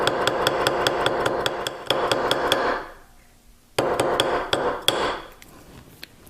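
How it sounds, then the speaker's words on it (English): A nylon dead blow hammer rapidly taps a small metal hook to harden it, two fast bursts of sharp, evenly spaced strikes with a short pause between them, close and clear. "I'm going to harden this a little bit with one of my nylon dead blow hammers"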